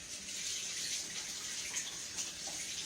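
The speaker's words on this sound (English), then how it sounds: "Let me wash my hands off." A kitchen tap runs for hand washing after flour coating, a steady, fairly faint hiss of flowing water heard alone.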